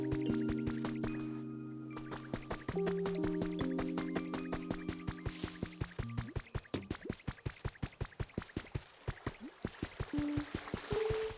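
Water drips steadily in the video game Pokémon Pokopia, a rapid regular train of small plinks running under soft sustained musical tones, close and faint throughout.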